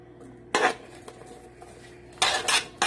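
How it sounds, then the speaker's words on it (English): A metal spoon scooping mixed garlic into a big pot, heard as two bursts of clattering scrapes against the pot with a light tap between them, loud and close. "I'm going to throw a couple of scoops of this mixed garlic in"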